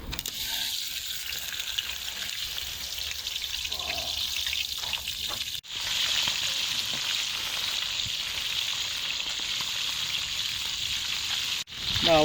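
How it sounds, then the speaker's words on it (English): Fish fries in a pan with a loud, continuous hiss and crackle that holds steady, broken by two brief drops in volume, with no voices. "finally we are here for cooking our fish"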